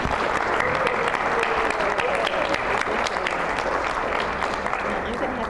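Audience applause welcoming a presenter to a talk on plant-based nutrition, steady dense clapping that fills the room evenly from start to finish.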